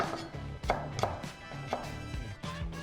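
A knife chops garlic on a cutting board for a beef black pepper dish, sharp distinct taps at an irregular pace, close and clear with no voices.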